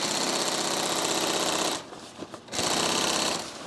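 A sewing machine stitches a backpack seam, running in a loud rapid mechanical drone, stopping briefly with a few clicks and then resuming at full speed.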